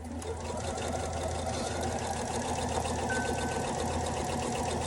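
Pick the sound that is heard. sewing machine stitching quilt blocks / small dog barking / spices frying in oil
sewing machine stitching quilt blocks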